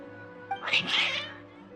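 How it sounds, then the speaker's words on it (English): Agitated cats give one loud, drawn-out meow that rises and falls over about a second, close and alone against a faint steady hum. "Your cats seem pretty worked up."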